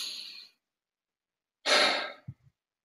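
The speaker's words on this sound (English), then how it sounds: "just take a moment to take a deep breath in" A deep breath in and out: a soft airy exhale fades away, then after a pause a longer close, breathy intake follows with a small catch at the end, with no talking.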